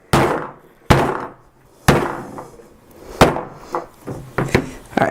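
Hammer striking the back of an HTC One M8 smartphone, a series of sharp hard impacts, about eight blows with ringing decays, close and loud.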